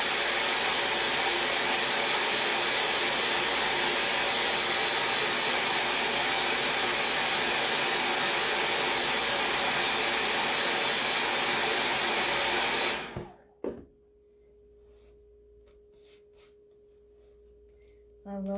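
A craft heat dryer blasts steadily over freshly stamped ink for about thirteen seconds, loud and close, then cuts off abruptly to near silence with small handling clicks.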